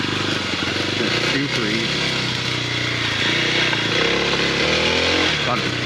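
KLX 300 dirt bike engine revving steadily under load while ridden, a loud close buzzing drone with pitch rising and dipping as throttle changes, someone talking briefly over it.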